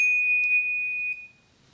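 A Knog Oi Classic bicycle bell gives a single bright, pure metallic ding, close and clear, ringing steadily before fading away after about a second.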